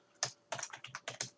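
Close, quiet keystrokes on a computer keyboard, about six or seven distinct taps in quick uneven succession, with no talking.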